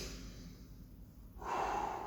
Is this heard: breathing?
yes